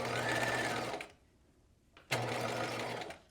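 A sewing machine stitches the raw edges of a knit jewel-neck top, running in a steady loud whir for about a second, stopping briefly, then starting up again and running on to the end.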